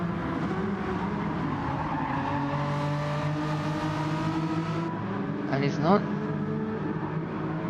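Race car engine revving hard on the Nürburgring in a racing video game, a loud, sustained high whine that climbs through gears, with a brief tire squeal near the end under a commentator's talk.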